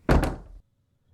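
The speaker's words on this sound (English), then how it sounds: "He took Toad firmly by the arm, leading him into the smoking room, and closed the door behind them." An interior door swung shut in a country house, closing into a smoking room: one close, heavy thunk with a quick double impact and a short low decay, then silence.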